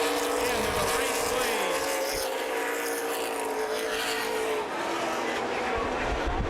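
Race cars at Columbus Motor Speedway hold a steady, droning engine roar with gliding pitch as they circle the track, moderately distant, with a commentator talking over it.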